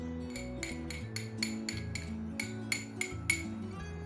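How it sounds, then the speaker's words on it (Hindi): Metal spoon stirring coconut oil and camphor in a bowl, giving about a dozen sharp, evenly spaced clinks against the bowl over a steady low background hum. "1 टेबल स्पून हम कोकोनट ऑयल ले लेंगे और इन्हें अच्छे से हम मिक्स कर लेंगे।"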